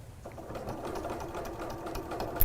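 A sewing machine stitches a woven windowpane fabric panel, its needle running in a fast steady mechanical whir with rapid rhythmic ticking, close and even throughout.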